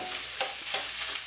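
Cooked rice for egg fried rice is stirred and tossed in a hot pan, a constant sizzle broken by several rhythmic scraping strokes, close and clear with no talking.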